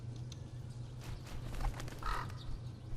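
Crows caw several times in The Dark Eye: Memoria, harsh calls coming in uneven bursts over a low steady background hum, with no talking.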